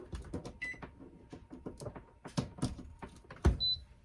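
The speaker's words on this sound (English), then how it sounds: "So now all we have to do is put the lid on." Plastic lid clicking and clattering as it is placed and turned onto an Instant Pot, several short knocks and rattles close by, ending with a brief electronic beep.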